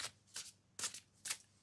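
A deck of tarot-style reading cards shuffled by hand in four quick riffling bursts, crisp and close, with short pauses between them and no voices.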